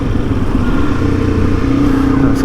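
A small motorcycle engine in the Simpson Desert runs steadily and loud at close range, a continuous buzzing drone that holds level without clear revs, with no talk over it.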